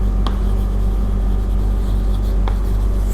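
Marker strokes scratch softly across a board while an example journal entry is written out in an accounting lesson, with a couple of sharper taps, under a steady low hum and no talking.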